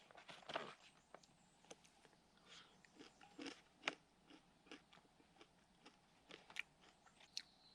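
Crunchy granola with oats, brown sugar, coconut and sesame seeds is chewed at a backcountry campsite in Algonquin, irregular close crisp bites and crunches spaced over several seconds, faint and intimate.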